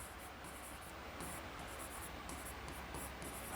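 Steady scratching of writing on a board during a grammar lesson, a continuous soft rasp at close range with no talk over it.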